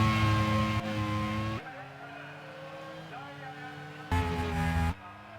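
Race cars in a racing video game at Laguna Seca roar past with sustained engine drones and tire squeal as brakes lock up, under steady commentary talk, with loud bursts of engine noise rising and dropping.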